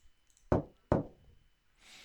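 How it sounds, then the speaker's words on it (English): Two firm knocks on a door in the video game Maison Chichigami, close and clear with a short pause between them, followed by a soft hiss. "I heard a knock at the door and sat up on the sofa"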